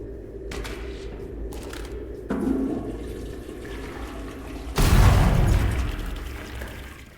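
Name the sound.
toilet flushing in the video game Selaco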